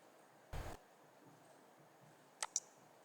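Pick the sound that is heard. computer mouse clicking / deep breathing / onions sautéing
computer mouse clicking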